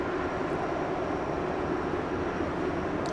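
A Boeing 747 at DFW Airport sits with its jet engines running before takeoff, a steady, loud, broadband roar that holds evenly throughout with no voices.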